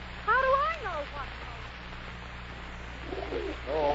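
A pigeon coos as a sound effect in a 1941 live radio play, two soft warbling coo phrases near the start and another near the end, over a low steady hum.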